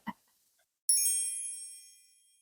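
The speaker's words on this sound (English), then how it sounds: "The sound effect that you just heard was chimes" Chimes ring out as a bright sound effect, a single sparkling strike of metallic tones that rings on and slowly fades, preceded by a brief faint knock.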